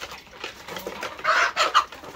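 Egg-laying hens on a farm clucking in short, soft bursts, several close calls overlapping, with louder clucks toward the end.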